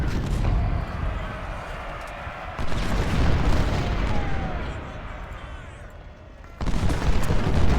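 Heavy artillery fire in a Civil War battle at Fort Stevens, a rumbling barrage of booms and distant cannon blasts rolling continuously, surging louder partway through and again near the end, with battlefield noise layered throughout.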